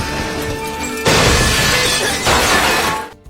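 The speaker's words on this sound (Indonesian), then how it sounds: "Seketika ledakan pun terjadi di sekitar Luffy yang membuat semua hancur" A bomb thrown by Don Krieg goes off in a One Piece anime battle, a loud crashing, shattering blast that bursts in, roars on, surges again and then cuts to silence.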